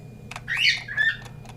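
A single bird squawk, a short harsh rising-and-falling cry with a second briefer call right after, heard over a low steady hum and a few faint clicks.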